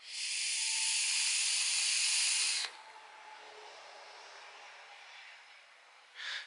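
An e-cigarette running at 18 watts with 50-50 liquid gives a long, steady airy hiss of vapour drawn for a few seconds, then a softer fading hiss, and a brief exhale-like rush at the end.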